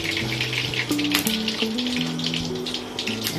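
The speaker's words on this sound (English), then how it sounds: "So now I'm going to fry the bergedil." Potato and chicken bergedil cutlets coated in egg frying in hot oil, a close, steady sizzle with crackling pops and faint tonal clinks over it.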